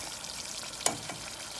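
Castor seeds frying in a pan as homemade castor oil seeps out, a continuous close bubbling sizzle with one sharp crackling pop midway.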